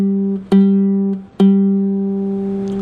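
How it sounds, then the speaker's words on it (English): A ukulele fitted with a low G string, an octave below the usual high G, plucked three times, each note ringing out warm and sustained with clear harmonics, close and fairly loud with no talking. "let me show you how the low G string sounds in comparison."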